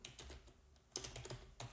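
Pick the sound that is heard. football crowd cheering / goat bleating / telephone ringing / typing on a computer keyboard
typing on a computer keyboard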